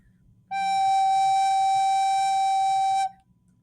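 A recorder sounds a single sustained G note with three fingers and the thumb hole covered, pure and steady for about two and a half seconds, clear and alone.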